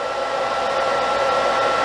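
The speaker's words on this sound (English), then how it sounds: "let your blow dryer as well become part of your designing tool. So I'm going to turn it on low air, high heat." Blow dryer set to low air and high heat during cosmetology blow-drying, giving a steady, loud, close whirring roar with a faint tonal whine, unbroken and with no voices.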